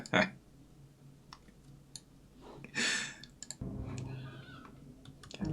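A few soft, sharp clicks from a computer mouse come close and quiet at irregular moments, with faint background noise in between.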